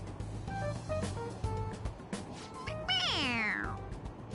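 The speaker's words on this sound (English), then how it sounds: "It meows when you press on its head." A squeezable toy cat in Persona 5 Royal lets out a few short meows, ending in one long, loud, falling meow over soft game music.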